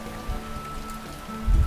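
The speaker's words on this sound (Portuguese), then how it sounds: "dá uma olhada só na chuva que nós estamos pegando no finalzinho do nosso dia em Brodowski" Rain falls steadily at day's end in Brodowski, a close, even patter on surfaces lasting under two seconds, with a low thump at the very end.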